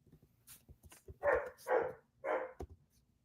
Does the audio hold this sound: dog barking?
yes